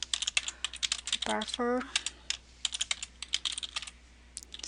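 Rapid, uneven clicks of keys being typed on a computer keyboard, close and crisp, with brief pauses, while a voice briefly speaks a word partway through.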